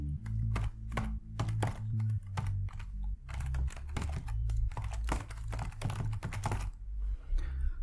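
Someone types an email address on a computer keyboard, with fast, uneven clusters of close clicking keystrokes and brief pauses, over a steady low hum with no talking.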